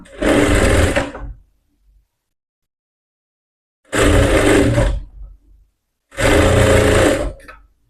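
A sewing machine stitches a blouse sleeve, running in three loud, close bursts of rapid mechanical whirring separated by silent pauses.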